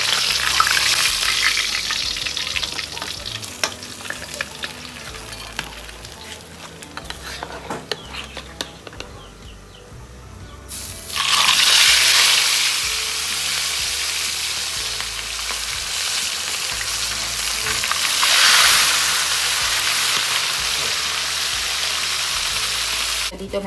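Food frying in a pan, loud steady sizzling that swells sharply halfway through as more goes into the hot oil, with clatter and stirring throughout and no talk.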